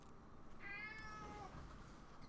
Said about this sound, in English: obnoxiously loud cat